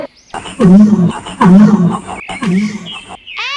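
A lion gives three loud, close, full-throated roars in a row, each a rough rumbling swell with short gaps between, ending on a brief higher cartoonish squeal.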